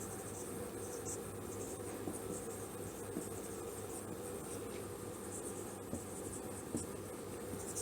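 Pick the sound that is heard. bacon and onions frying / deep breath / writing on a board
writing on a board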